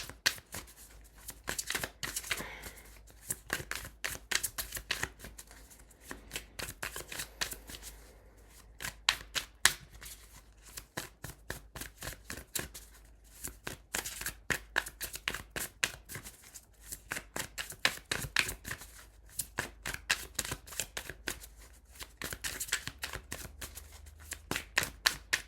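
Tarot cards being shuffled by hand, a long run of close, crisp riffling and slapping bursts in an irregular rhythm, heard alone without talk.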